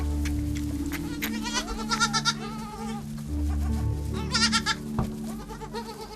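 Several young goat kids bleat in their pens on a farm, with repeated wavering cries overlapping at close range above a steady low background hum.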